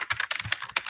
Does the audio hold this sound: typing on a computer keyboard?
yes